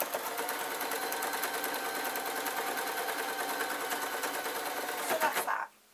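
A domestic sewing machine stitches a waistcoat, running in a steady rapid clatter of needle strokes. It labours briefly louder as it crosses a thick seam, then stops abruptly.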